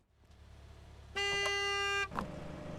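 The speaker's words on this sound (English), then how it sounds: "People honking at me." A car horn in Gas Station Simulator blares in one long steady honk close by, followed by a short second toot over a low engine rumble.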